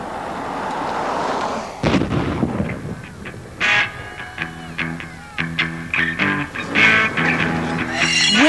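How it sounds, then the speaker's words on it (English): Non-military explosives and pyrotechnics go off at Winterblast, a large event in sparse desert country: a string of loud booming blasts and cracking bursts at irregular intervals, with crackling and rumbling echoes between them. "Winterblast is one of the largest discharges of non-military explosives and pyrotechnics in the world."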